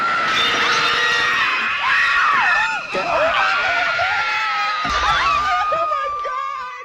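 Several shrill, sustained screams from a crowd of women overlap loudly, wavering and sliding in pitch with brief breaks, then fade slightly toward the end, with scattered shrieks and squeals mixed in.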